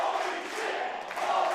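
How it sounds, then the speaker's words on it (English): A wrestling crowd at a live indie match cheers for Nic Zander, a dense, sustained roar of voices with shouts rising and falling throughout. "And the crowd giving Nic Zander his due after a leap and a move like that."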